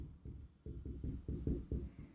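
Chalk writing on a board during a class on circle theorems, a series of short scratchy strokes and taps in an uneven rhythm, close and fairly loud, with no talking.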